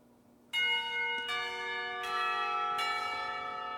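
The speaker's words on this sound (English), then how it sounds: "The bell heralding the beginning of lunch rings out, shaking me out of my thoughts." Resonant school bell in the Katawa Shoujo visual novel ringing to announce lunch, several loud struck tones overlapping into a sustained, ringing chime with no talk.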